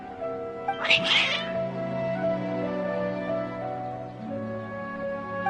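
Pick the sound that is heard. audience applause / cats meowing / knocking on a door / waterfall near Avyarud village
cats meowing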